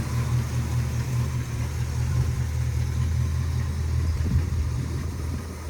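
Lucille, a hearse, idles steadily with a deep low rumble and even mechanical hum, close and continuous with no talk.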